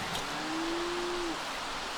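A single long cow moo from a video game, steady and sustained for about a second over a soft, even background hiss, with no talking.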